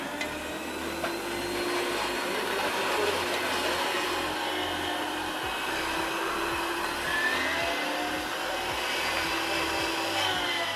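An electric chopper whirs steadily as it purees garlic and onion for homemade kimchi, a loud, continuous motor drone with a low, churning undertone and no pauses.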